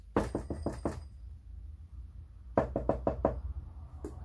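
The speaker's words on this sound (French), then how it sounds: "ils frappèrent à la porte" Knocking on a house door: two quick bursts of about five or six firm, close raps, then a pause and one last single knock.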